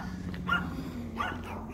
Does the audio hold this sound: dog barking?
yes